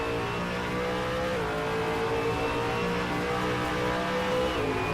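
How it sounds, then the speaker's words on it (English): On-board engine of a V8 Supercar Ford Falcon race car on a lap, a loud continuous V8 roar holding pitch with small shifts, close and alone without talk. "let's see if we can get a lap on board with Aaron, see how this car's behaving itself today"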